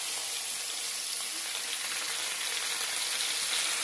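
Panch phoron spices and onion fry in hot oil in a pan, making a constant bright crackling sizzle, close and steady throughout with no talking.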